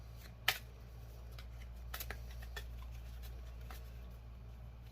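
Tarot cards are shuffled and flicked in a quiet room, one sharp snap early followed by several softer riffles and taps, faint and close.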